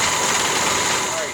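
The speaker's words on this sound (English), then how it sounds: "the engine sounds better now" A 1965 Chevrolet C10 engine, abandoned for 17 years, running after a carburetor adjustment: a steady close idle hum with a faint whine, continuous, then tapering slightly at the end.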